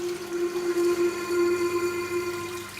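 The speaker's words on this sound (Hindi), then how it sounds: "मैं इधर पानी को रोके हुआ हूँ, अगर मैं यहाँ छोड़ूंगा तो पूरा रूम में पानी भर जाएगा" Water gushing from a broken tap indoors, a steady, loud rushing stream with a sustained tonal hum running underneath, unbroken throughout.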